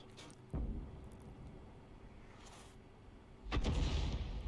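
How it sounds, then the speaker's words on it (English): Two booming shots from a 105 leFH18B2 artillery gun in a tank video game, spaced about three seconds apart, each a loud blast followed by a fading rumble. "that's why ProvoBob's firing around into that direction"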